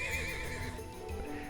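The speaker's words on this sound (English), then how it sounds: "It's dangerous to just walk up to a spooked horse" A spooked horse lets out a strained, wavering neigh in the video game Trails of Cold Steel 2, close and fairly loud, with faint hoof clops and no talking over it.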